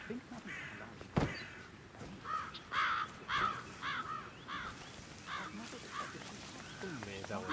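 Crows caw repeatedly in a video game, several harsh calls scattered across the stretch over a murky background of game ambience, with one sharp thud early on.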